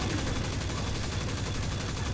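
Dense, unbroken automatic gunfire from the Destiny 2 video game rattles steadily for the full stretch at moderate volume, a continuous burst with no pauses and no talking.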